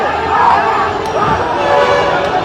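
Dhaka University students in a protest procession, a dense crowd roaring and chanting loudly and continuously, close and unbroken throughout.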